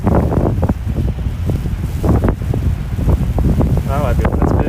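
Strong wind buffets an outdoor microphone with a steady low rumble, gusting throughout alongside a person's speech.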